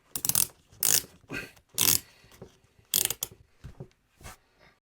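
A Boa dial on a Shimano S-Phyre XC901 cycling shoe ratchets tight in several quick bursts of sharp clicking, each half-second run of clicks separated by short pauses, close and crisp with no talking.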